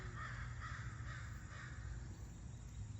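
A crow caws repeatedly outdoors, a series of rough calls spaced about half a second apart over a steady broad background hiss and low rumble, moderately distant and fairly faint.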